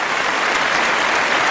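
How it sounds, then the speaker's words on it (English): A recorded applause sound effect played for Cody during a live broadcast, giving a brief, steady wash of crowd clapping with no voices over it. "Here's Cody applause coming down."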